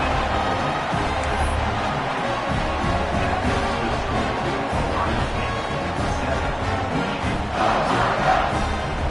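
A virtual stadium crowd in College Football 26 roars loudly and continuously after a scoring drive, a dense wall of cheering with scattered shouts throughout.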